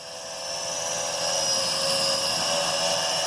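A Venom Pro GPS streaming drone flying near a harbour park, a loud steady high-pitched propeller whine that swells slightly as it rises and holds, close by with no voices.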